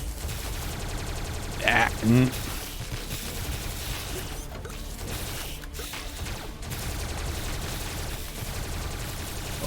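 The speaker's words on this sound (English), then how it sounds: "Rapid Tesla gun." Rapid Tesla gun fires in a video game, a dense crackling barrage running under the game's steady noise with a brief voice exclamation near the start.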